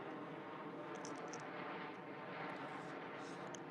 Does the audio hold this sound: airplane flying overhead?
yes